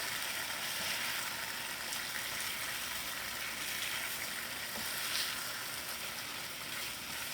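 Tofu frying in a pan gives a steady, faint broadband sizzle that holds evenly throughout without a break, with no talking over it.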